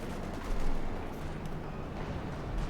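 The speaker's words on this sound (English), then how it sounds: "Panther engaging, got a decent shot there." A Panther tank fires in Company of Heroes 2 amid a wider battle, with a heavy low boom near the start over a continuous rumble of distant gunfire and artillery.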